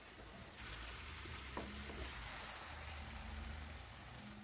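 Cauliflower frying in hot oil for a tomato-sauce dish gives a steady, close, even sizzle that holds throughout, with no voices.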